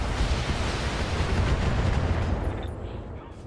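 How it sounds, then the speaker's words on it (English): Mechs in the Battletech video game fire their weapons in a dense, roaring barrage of booming, rumbling blasts that fills the scene and then fades slightly toward the end. "And now they're gonna fire at him."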